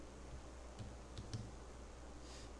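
Text being typed on a computer keyboard, soft rapid key clicks in a few small clusters, close but faint against a steady background hiss, with no voices.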